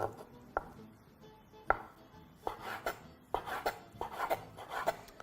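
A knife thinly slicing cherry tomatoes on a cutting board for a Tuscan tuna salad, with irregular light taps and scrapes that quicken into a steady run of close, crisp cuts.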